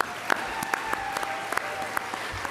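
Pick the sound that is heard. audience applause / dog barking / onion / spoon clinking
audience applause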